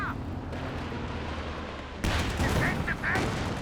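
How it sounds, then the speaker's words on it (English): Katyusha rocket barrage from Company of Heroes 2, a long-range salvo striking a tank repair area: a dense rumbling roar under continuous battle noise, swelling louder halfway through with sharp crackling bursts of impacts. "Long range Katyusha barrage into the repair area."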